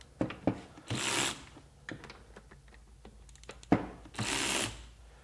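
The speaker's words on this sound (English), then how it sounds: "I'm just going to hold the ratchet and pull the trigger." A Ryobi PBLRC25 extended reach cordless ratchet, held in hand, whirs in two short bursts with the trigger pulled, separated by light clicks and handling knocks.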